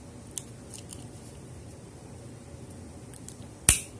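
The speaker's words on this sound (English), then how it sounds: "That click was not the lock opening. That was it getting past this little rivet over here." A single sharp metallic click from a Brinks 60mm padlock as its shackle slips past a small rivet, near and crisp near the end, after a faint earlier tick over quiet background.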